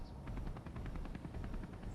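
Nod Apache attack helicopter from Space Engineers setting down to land, a steady loud rotor chop with rapid even beats throughout, no talking.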